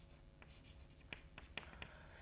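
A pen scratches out a note on paper or a board during a mathematics lecture, faint scraping strokes with a few sharper taps in an otherwise quiet room.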